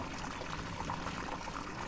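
Water drains steadily from an unclogged drain in a flooded convenience store in the video game DrainSim, a continuous pouring, gurgling rush with no talking.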